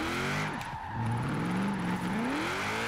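A Mitsubishi Lancer Evolution X drift build slides through corners in Forza Horizon 4, its engine note rising and falling steadily while tires squeal continuously and loudly, with no voices.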